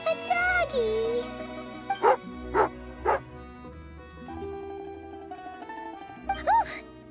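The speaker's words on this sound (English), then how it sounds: "Oh, a doggy." A dog in the Genshin Impact video game barks several times in short, sharp bursts over background game music, with a whimpering tone at the start and one more bark near the end.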